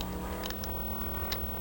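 Car engine in Roadkill, a top-down racing game on the Amiga CD32, giving a quiet, steady buzzing drone at an even pitch with faint ticking clicks over it.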